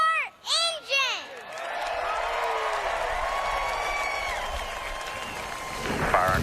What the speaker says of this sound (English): Drivers, start your engine!